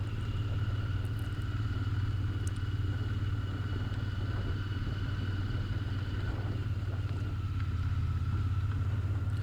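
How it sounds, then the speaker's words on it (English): Twin-cylinder engine of a heavy motorcycle weighing over 200 kilos, idling smoothly and steadily with a low, even rumble and no talk. "It's only that sweet twin cylinder sound, and it's actually butter smooth"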